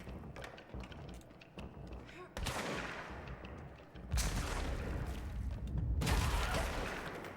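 Gunfire from shooting enemies in the video game Control, with bursts of loud rapid shots and heavy impacts that come in clusters and grow denser toward the end.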